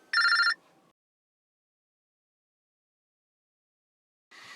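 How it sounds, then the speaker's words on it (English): A telephone rings in a loud, bright burst at the start, then a long silence, then a second fainter ring begins at the end. "Got a phone call."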